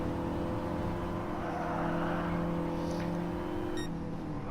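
Race cars in Gran Turismo Sport during a six-lap race, engines droning steadily at a distance with a smooth, continuous whine and no sharp passes, moderately quiet throughout.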